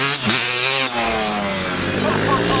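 A small pit bike engine revs steadily with rising and wavering harmonics, a continuous near buzz lasting the whole moment, with voices talking over it.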